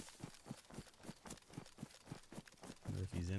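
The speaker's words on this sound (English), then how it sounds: "I heard footsteps." Footsteps in DayZ, a steady run of about a dozen evenly spaced thuds, moderately close and soft, ending as a voice starts talking over them.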